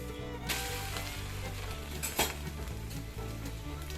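Egg dosa frying in coconut oil on a pan gives a steady, close sizzle throughout, with a couple of brief scrapes and clinks from the spatula or pan as it is turned.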